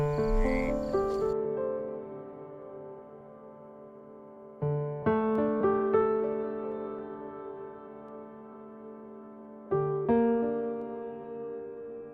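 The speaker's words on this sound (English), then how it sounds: "there's nothing terribly dishonorable about swamp sounds" Frogs croak in a swamp setting, resonant tonal calls arriving in three separate bursts with sustained ringing tails, loud and close with no other sounds.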